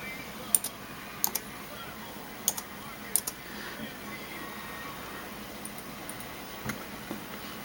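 A name is typed on a computer keyboard: a handful of quiet, sparse key clicks, some in quick pairs, over a soft steady background hum with no talking.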